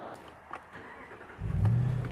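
A RAM truck with a sticking electric power steering fault starting off on a test drive, its engine quiet at first and then swelling into a louder low rumble as it pulls away.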